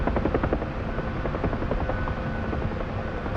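Helicopter in the DCS flight simulator game, a steady loud rotor chop and turbine drone with rapid regular blade thumps running continuously throughout.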